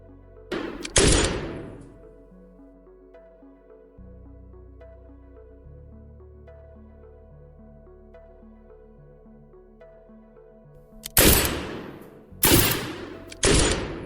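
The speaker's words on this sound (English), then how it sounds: "This way, a single gunshot effect sounds more realistic." Gunshot sound effects with heavy reverb added in CapCut for a muzzle flash effect: one loud blast with a long ringing tail, then after a quiet stretch three more sharp shots in quick succession.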